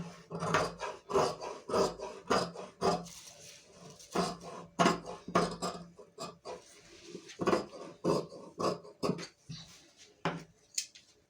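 Scissors cut fabric for a blouse belt on a table, a close series of sharp rasping snips and rubbing strokes in uneven bursts with short pauses between.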